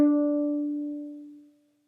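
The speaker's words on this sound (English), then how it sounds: "that's our open D string on the violin" A single bowed note on a violin's open D string rings out alone, clear and steady, then gradually fades away over about two seconds.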